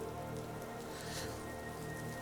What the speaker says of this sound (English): It rains.